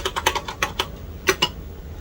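A command typed on a TRS-80 Color Computer 2 keyboard, about a dozen quick close key clicks in an uneven rhythm, quiet and alone.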